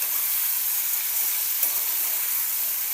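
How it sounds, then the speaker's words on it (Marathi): Drumstick pods fry in hot oil with a steady, bright sizzle and a faint stirring scrape partway through, close up and uninterrupted by voices. "शेंगाला छान फ्राय करायचं तेलामध्ये."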